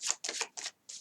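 Tarot cards being shuffled and handled up close, four quick papery riffling bursts separated by short pauses.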